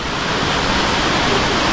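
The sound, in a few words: waterfall at Minoh Park, Osaka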